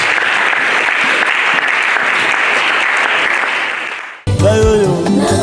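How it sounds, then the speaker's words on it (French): A church congregation applauding at a worship service, loud dense clapping sustained for about four seconds that fades, then gives way to a voice over music. "Est-ce que tu peux acclamer?"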